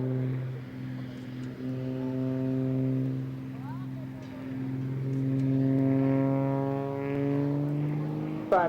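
Blades aerobatic display aircraft flying overhead at an RAF airshow, a steady droning engine hum that swells and fades as the planes pass, with a commentator talking over it.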